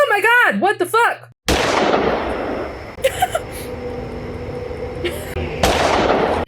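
Sharp gunshots fired by Gary in a game, one loud crack followed by a long echoing tail and a few more bursts, with another close blast near the end after a voice at the start.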